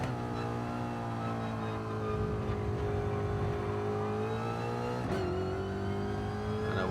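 Alpine Vision Gran Turismo race car in Gran Turismo 7 on the Kyoto Park circuit, its engine holding a loud, steady high-revving drone that climbs in pitch, with a sharp gear change midway before building again.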